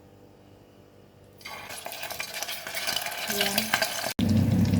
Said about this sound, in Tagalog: Isahan na natin mag-fry kasi mainit na yung mantika natin.